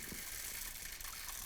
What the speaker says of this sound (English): now I'm just going to pour the beans in up top here